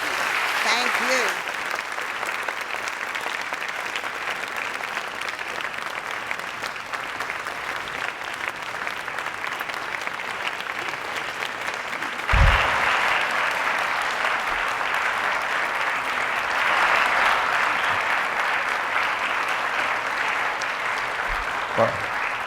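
A lecture audience applauds warmly for Dr. Walter Munk at the University of Delaware, with sustained clapping throughout and a brief knock partway through.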